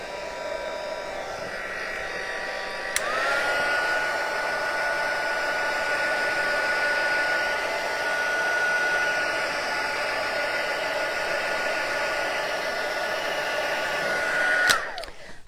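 A heat tool running on its low setting 1 to dry ink, a steady close whooshing blower roar that switches on about three seconds in and runs continuously for roughly twelve seconds before cutting off.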